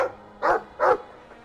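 A dog in the video game Dragon Age 2 gives two short, clear barks close together, loud against quiet surroundings.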